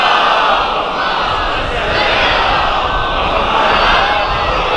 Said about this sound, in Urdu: صلوات پڑھ لیں ذرا محمد والے.